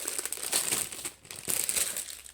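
A small plastic bag holding a diamond painting canvas crinkles and crackles close up, in two bursts of handling separated by a brief pause.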